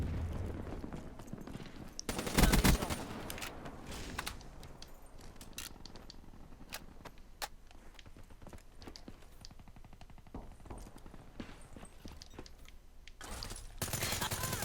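Gunfire in Call of Duty Black Ops 3 multiplayer: a loud burst of shots early on, then repeated rapid automatic fire and scattered single shots, with someone talking between them.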